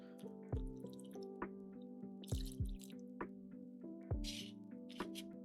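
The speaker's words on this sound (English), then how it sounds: "I'm gonna put his water back in." Water trickles back into a plant pot as a series of irregular, faint drips and small splashes, heard over a soft, steady musical tone.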